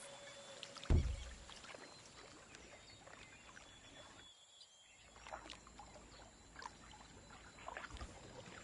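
A boat glides over water in the video game Assassin's Creed Liberation, with soft, steady splashing and wash under ambient bird calls and faint insect chirps, a brief louder splash near the start and a short lull midway.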